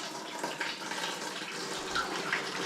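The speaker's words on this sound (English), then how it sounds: "I'm just going to pour her in." Homemade pumpkin wine pours steadily, a close continuous splashing and gurgling stream of liquid with no talking.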